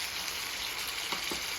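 Pork shoulder steak sizzles steadily in a frying pan, a continuous close crackle with a few brief pops, no voices.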